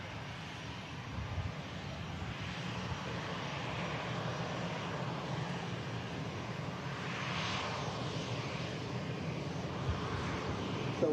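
A steady broad roar of aircraft engines at Manchester Airport, as a Ryanair Boeing 737 Max 8200 arrives from Almeria, faint and distant, holding even throughout with no talking.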